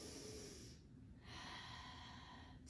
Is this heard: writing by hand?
no